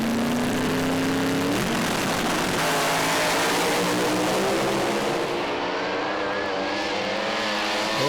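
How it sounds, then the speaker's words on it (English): Pro Slammer drag cars at Willowbank Raceway's New Year Thunder meet launch and scream down the strip, a loud, sustained engine roar with rising pitch that holds steady and full for the whole stretch, with no talk over it. "Then we have a drag race."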